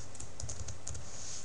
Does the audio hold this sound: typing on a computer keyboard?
yes